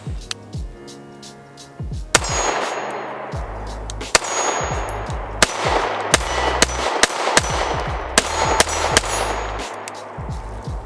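Several loud, sharp gunshots from a Bul Armory SAS2 Viper pistol with a compensated barrel firing 115 grain Fiocchi ammunition, spaced irregularly across the stretch with a metallic clang and ringing echo after each report.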